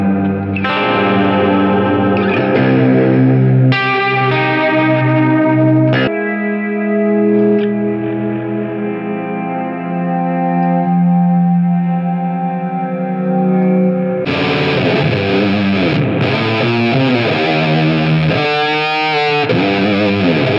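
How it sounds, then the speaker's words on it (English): Wonderful Audio Technology Ancient Echoes effects pedal shaping a guitar into lush, chorused and echoing tones, sustained chords with swirling modulation and a brighter, more distorted passage near the end, loud and without any voices. "we have the amazing Ancient Echos from Wonderful Audio Technology."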